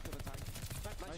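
Gunfire from a Call of Duty match at a CDL Champs 2022 competitive event rattles in fast, loud bursts of rapid shots throughout the short stretch, with faint voices under it.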